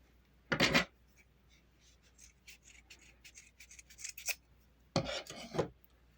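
Scissors snip through yarn in two distinct bursts of crisp, close cutting, with softer rubbing and handling of the wool between them while a Maltese amigurumi is being made.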